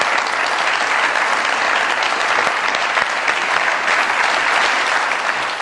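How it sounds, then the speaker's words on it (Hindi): Studio audience at a comedy show applauding to welcome a guest onto the stage: dense, steady clapping, loud and sustained throughout with no talk over it. "बहुत सारी तालियों में वेलकम कीजिएगा सुंबुल शाहिद साहिबा की।"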